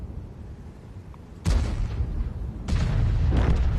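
Tank cannon shots in the video game World of Tanks, with an Emil II in play: two heavy booms about a second apart, each ringing out in a long rumbling tail over a low steady background.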